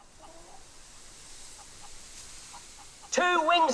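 Chicken from the video game Fable 3, with faint scattered calls early and then a sharp, loud burst of clucking near the end, standing out over a quiet game backdrop.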